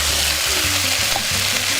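Beef stew ingredients frying in a cast iron Dutch oven, giving a steady, close hiss of sizzling with low bubbling underneath and no voices.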